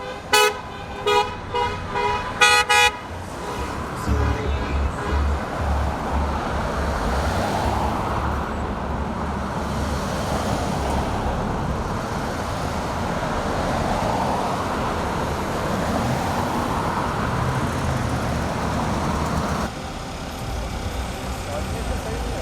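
Several car horns toot in rapid bursts at a car rally celebration in New Jersey, then give way to steady road traffic and engine noise from passing vehicles, with a crowd or voices faintly underneath.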